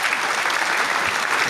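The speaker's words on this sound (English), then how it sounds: "Thank you guys for the round of applause." A crowd applauds steadily, dense clapping filling the whole moment without pause, fairly loud and close.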